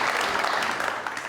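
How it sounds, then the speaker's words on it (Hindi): A studio audience at a television talk show claps in a dense, continuous burst, loud and close, fading slightly over a second or so. "जी बहुत सारी तालियां।"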